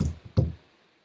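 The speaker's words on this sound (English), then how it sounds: "I hear a knock at the door" A knock on a door, a couple of soft low raps followed by one firmer thump, close and alone in a quiet room before fading to silence.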